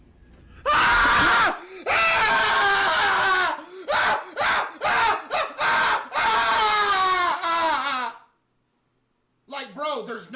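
A little boy screaming in a ghost video, long loud shrill wails and shrieks broken into several bursts, close and intense, followed by silence and a shorter faint cry.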